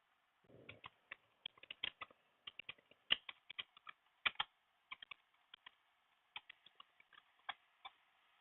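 Quiet, close clicking of keys on a computer keyboard, with irregular bursts of keystrokes and short pauses between them and no talking.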